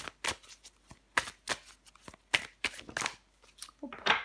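Deck of cards being shuffled and handled for a card reading, a quick series of crisp riffling and slapping bursts, close and irregular, with soft talk between them.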